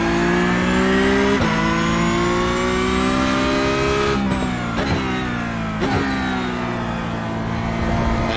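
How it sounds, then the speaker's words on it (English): Porsche Cup race car engine at Interlagos in iRacing, loud and close, holding a steady high-revving note with sharp drops in pitch as it downshifts through gears, engine braking into a corner, no talk. "That extra drop down to first does give me a bit of engine braking as well"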